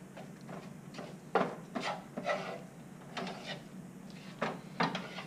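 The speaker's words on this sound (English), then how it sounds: "And then I'll mix this up. So this is basically a rice fish stuffing." Rice and fish stuffing being stirred and mixed in a pan, heard as a series of close, scraping, rasping strokes in an irregular rhythm with no talk over them.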